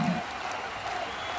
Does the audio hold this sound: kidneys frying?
no